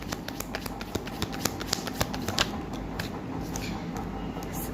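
A tarot card is drawn from the deck in a series of soft, close crisp ticks and paper shuffles, faint over quiet room tone.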